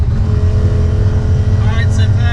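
A car tuned with a Haltech NSP and running E85 fuel pulls hard, its engine a loud, close, continuous roar, with rising whine tones climbing near the end.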